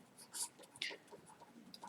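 Soft scratching of pen or chalk writing figures into a matrix, brief strokes in an irregular rhythm, faint and close with near silence between marks.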